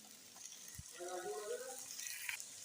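Ghee sizzles in a pan of gajar ka halwa with cardamom, a soft, steady frying hiss with faint stirring scrapes, fairly quiet and close.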